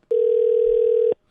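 Single steady telephone tone while placing a call, one clean sustained beep about a second long, close and clear with silence around it.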